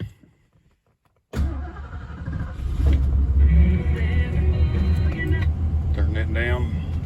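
Mercury Monarch with 15K miles cranks and fires after a moment of silence, settling into a loud, steady idle with a whining tone, while a voice speaks over the running engine.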